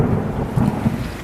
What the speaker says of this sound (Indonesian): Malam itu hujan turun cukup deras.